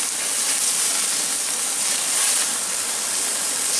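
Strip steaks sizzling in a hot pan after their final flip, a loud, steady, close hiss that fills the moment without pause and with no talking.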